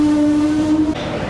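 A train pulls into Kelenföld station in Budapest with a steady tonal horn or whistle over the rumble of rail cars. The tone cuts off near the end and the rolling noise carries on. Nobody speaks.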